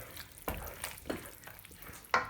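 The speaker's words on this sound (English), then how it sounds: "So I'm just going to stir that in" Grana padano is stirred into a mushroom risotto in a pan, giving soft irregular scrapes and a low simmering hiss, quiet and close.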